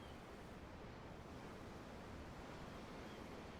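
Ocean waves in the video game Tales of Arise wash steadily and faintly, a broad, unbroken rush of surf with no voices and no distinct breaks.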